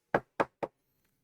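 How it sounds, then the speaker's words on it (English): Three sharp knocks on a door in quick, even succession, close and clear, followed by quiet. "you each hear a knock at your doors"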